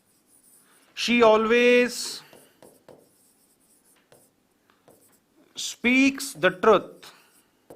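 An example is written out on a classroom board, with faint scratchy strokes in the pauses between bursts of a teacher's speech.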